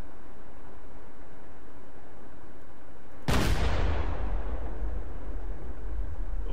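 Main cannon of a Russian vehicle in a video game fires once with a sudden loud boom, then a long, dense rumbling tail under steady background noise; no talk.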